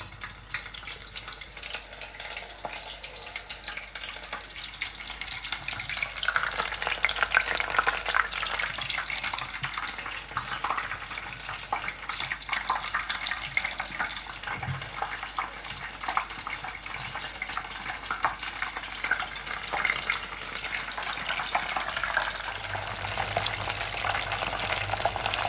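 Pieces of battered shark frying in hot oil, a steady dense crackling sizzle that runs continuously and fairly close, with occasional stirring.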